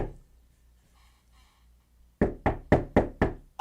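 Foley knocking low on a door in a home studio, heard as six loud, evenly spaced close knocks in a steady rhythm after a stretch of quiet room tone.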